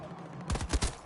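Quick burst of AK rifle fire in the video game Battlefield 2042, three or four punchy shots in rapid succession, close and fairly loud, after a brief background hum.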